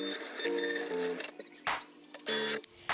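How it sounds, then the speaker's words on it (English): A Cricut Maker cuts a sheet of white permanent vinyl. Its motor whirs and hums in tonal bursts, broken by short pauses and sharper carriage movements, sounding close and clear with no talking. "Now it is time to cut the white slab of permanent vinyl into the proper size, load it into the machine,"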